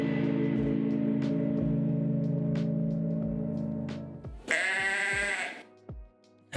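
A goat bleats loudly and close by, one long wavering cry near the end that follows a sustained, steady tone lasting several seconds.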